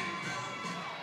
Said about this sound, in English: He's getting high praise from the crowd over there, as he should.